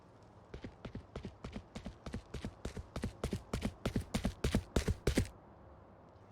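Yoru's fake footsteps in Valorant patter in a quick steady run, starting faint and growing louder and closer until they stop abruptly.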